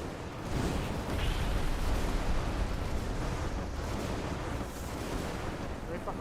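Gunfire and blasts in the fantasy game Arcane Odyssey, a dense continuous roar of rumbling shots and explosions at moderate loudness.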